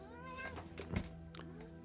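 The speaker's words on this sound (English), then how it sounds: "And ignore the cat." A house cat meows once in the middle, moderately close, over a steady low background hum with no talking.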